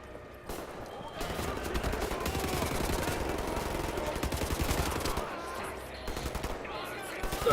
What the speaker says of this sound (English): Is there dudes shooting me from inside the moon dome?